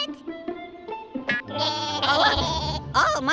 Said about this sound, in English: Hey, Dave, one of my sheep fell too.